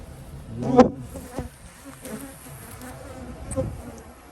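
Bees buzz around an apiary during a honey super pull, individual insects droning past close by in swelling passes over a quiet outdoor background.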